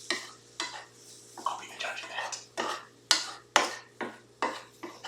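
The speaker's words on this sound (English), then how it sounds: "I'm just sort of sprinkling it over and then stirring" Okra being stirred with vinegar in a pan: repeated close scraping and clinking strokes in a steady rhythm, with a faint sizzle underneath.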